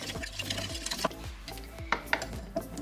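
A spoon stirs a dressing of soy sauce, sesame oil and honey in a bowl, clinking and scraping in quick, irregular strokes close by, over a faint sizzle.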